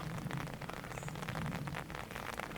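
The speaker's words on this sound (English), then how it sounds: "Can you still hear the rain pattering down on my umbrella here?" Rain patters steadily onto an umbrella during an outdoor walk, a dense, even spatter of small drops close by with no voices.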